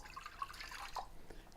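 Water poured from a measuring cup into a cooking pan, a brief light splash and trickle with a few drips, close and fairly quiet.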